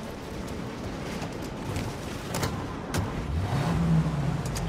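A car drives through the Mafia Definitive Edition video game world, its engine a steady, rough mid-pitched rumble with road noise, building and rising in pitch near the end as it accelerates.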